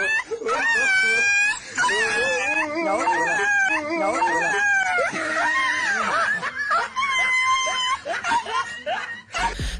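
A dog whimpers and whines in a string of high, wavering cries and yelps, some snicker-like, close and fairly loud over background noise.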